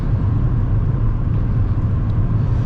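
A car driving along a road during a driving lesson, with a steady, loud low engine drone and road rumble heard from inside the cabin, unbroken and even throughout.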